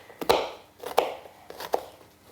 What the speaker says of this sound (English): then slice it out into cubes